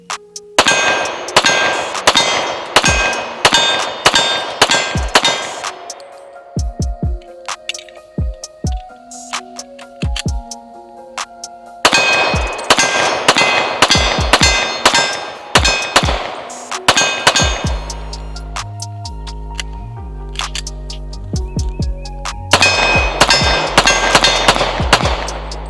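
A Springfield Champion Operator 1911 pistol fires at a shooting range in three rapid strings of loud, sharp shots, with brief ringing pauses between the volleys.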